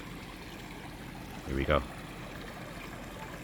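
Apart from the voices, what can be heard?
flowing stream of water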